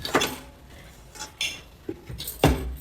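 The lid of a large electric cooker is handled, giving a few light metallic clinks and knocks with quiet pauses between them and no talking.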